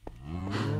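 A Minecraft baby cow lets out a single drawn-out moo, low and close, with a brief soft sound just before it and no talking.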